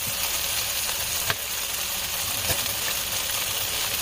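Garlic sizzles in a frying pan for shiitake mushroom pasta with bacon, a steady bright hiss of hot oil with a couple of soft clinks or pops, close and continuous without talk.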